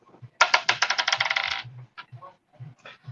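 Dice rolled during a football prediction chat, giving a quick burst of loud rattling clicks that tumble for about a second and then settle, followed by faint scattered knocks.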